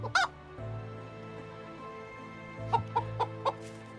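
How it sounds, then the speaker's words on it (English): A chicken in the medieval farming game Medieval Dynasty clucks in short, sharp bursts, first a single squawk and then a quick run of four clucks, over a steady low hum of game ambience. "Chicken, get out of the way, please."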